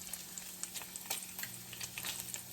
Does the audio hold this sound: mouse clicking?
no